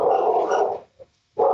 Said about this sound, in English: it sounds like the attack dogs are holding off the local police there